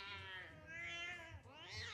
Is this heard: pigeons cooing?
no